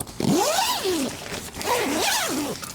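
A zipper pulled open in two long strokes on the inner window of a Bella shelter tent, close and clear, with a short pause between the pulls and no talk.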